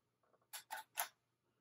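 A camera shutter firing at its fastest speed of 1/8000 second, lens set to f/1.4: a soft mechanical tick followed by three crisp clicks in quick succession, quiet and close, with no talking.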